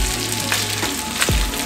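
Cabbage and pasta sizzle and fry in a pan as they are stirred over medium heat. A steady hiss carries a few scraping knocks of the utensil.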